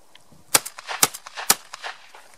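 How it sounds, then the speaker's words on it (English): Remington V3 semi-automatic shotgun fired at clay targets outdoors, three sharp loud reports about half a second apart, each followed by fainter echoing cracks and ringing tails. "That'll give you an idea of how soft shooting the Remington V3 really is."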